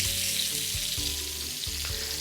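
Pork loin searing in a hot pan gives a steady, close sizzle and crackle throughout, with a few soft knocks of the meat or utensils against the pan.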